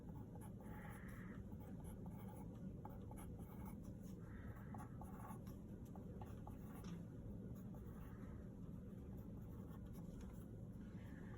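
A pen scratching and drawing on paper while a fractions math problem is worked out, soft continuous scribbling strokes close by over a steady low background hum.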